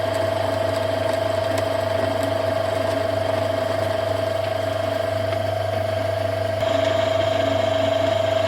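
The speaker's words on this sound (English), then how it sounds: "Now the lead screw turns in the opposite direction. And the lathe cuts a normal thread." A metal lathe turns its lead screw while cutting a normal right-hand thread. It gives a steady mechanical whir with a constant tone and a faint ticking of gears that runs evenly throughout, and no one speaks.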